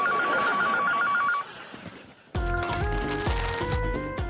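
An old-style telephone bell rings in an indoor home setting, a rapid trilling burst, then after a short pause a brighter, louder ringtone with repeating tones.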